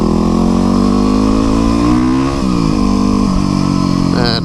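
A streetbike accelerates hard through the gears, its loud, close engine note rising in pitch and then dropping at each upshift, with wind rush behind it.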